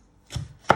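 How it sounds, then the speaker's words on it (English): Two quick knife chops through a pepper on a board, a duller stroke followed by a sharper crisp one, close-up and without speech. "you just want to chop it into"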